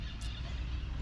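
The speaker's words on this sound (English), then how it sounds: "The birds over there going crazy, if y'all can hear them. The parrots." Parrots squawk outdoors in Ecuador with harsh, honking calls that sound fairly near and loud over a constant low background rumble.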